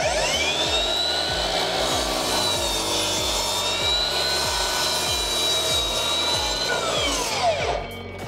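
A Hikoki C3610DRA cordless sliding miter saw cuts through 9mm OSB board, the motor whining up to a high steady pitch with a rasping cut, then slowing and dropping away near the end, loud and close, with no talk.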